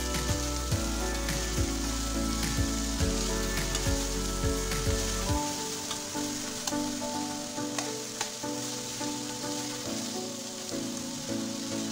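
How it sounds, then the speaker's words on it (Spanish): Bean sprouts and shrimp stir-fry in a wok for chop suey, a loud sizzle with rhythmic scraping and tossing strokes early on, then a quieter, steadier crackling fry with scattered pops. "Saltemos todo junto hasta que esté medio cocido."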